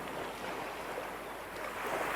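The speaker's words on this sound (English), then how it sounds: "The wavelets whisper as they slide across the sand." Small waves wash and slide across sandy shoreline in a steady, soft hiss of surf with light wind, continuous and moderately quiet, no voices.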